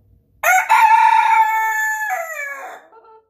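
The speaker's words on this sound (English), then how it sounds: "Reassuring little crow there" Stormy, a pet rooster, lets out a single loud, close crow: a sharp opening note followed by a long sustained call that drops in pitch at the end, with nothing else around it.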